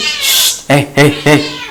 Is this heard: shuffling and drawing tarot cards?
no